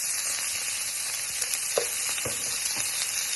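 Garlic and olive oil sizzle steadily in a frying pan, a dense continuous crackle with a few soft stirring clicks, close and alone with no talking.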